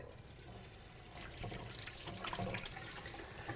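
A kitchen tap runs while hands are washed, a steady hiss of water that grows a little louder and more splashy midway and keeps going to the end.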